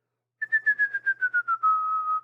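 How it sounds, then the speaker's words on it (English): A person whistles a short tune of quick, evenly spaced notes gently falling in pitch, ending on one long held note, clear and close with no talking. "How do I whistle and talk at the same time?"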